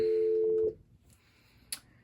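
A Cisco CP-8865 IP phone plays a steady dial tone on speakerphone for well under a second before it cuts off, followed by a faint click.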